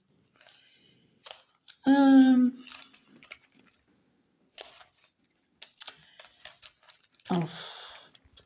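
Paper envelopes being torn and opened by hand at close range, with scattered crinkling and tearing bursts between short spoken remarks.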